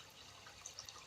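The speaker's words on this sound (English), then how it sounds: "Oh, it's dripping." Water drips from a bell siphon, a few faint, bright drops plinking over a steady soft watery hiss, close by and with no voices.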